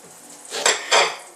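A knife cuts the ends off a banana on a cutting board, giving two quick, close chopping knocks spaced about a third of a second apart in otherwise quiet surroundings.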